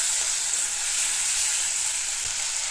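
Tomatoes hit hot oil in a pan for South Indian-style tomato rasam, giving a loud, steady, hissing sizzle that runs on without a break and with no voices.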